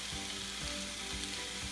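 Meat for a taco bowl fries in a pan, a steady bright sizzle with soft crackling and a faint rhythmic thump underneath, close and continuous with no talking.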